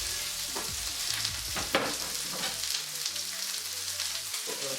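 Onion sautéing in spitting oil in a pan for a vegan stir-fry, a close, steady crackling sizzle with a few sharper pops and light stirring, no talk.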